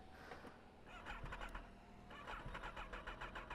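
A Kawasaki Ninja ZX10R motorcycle, hot from riding, is started: the starter cranks in quick repeated bursts, pauses, then cranks again in a rapid rhythmic churn, captured fairly close but at a low level.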